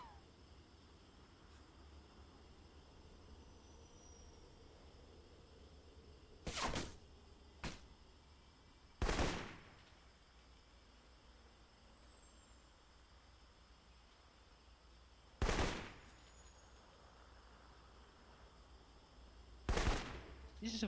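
Gunfire in the stealth action RPG Alpha Protocol: about five sharp, separate shots spaced several seconds apart, a close pair early on, each punching out of a faint, steady game ambience.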